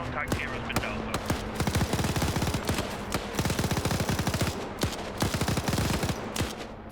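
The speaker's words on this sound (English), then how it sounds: "There goes that machine gun." Sustained machine gun fire in a military shooter video game, long rapid bursts of sharp, loud shots rattling steadily with brief gaps, dense and continuous through the whole stretch.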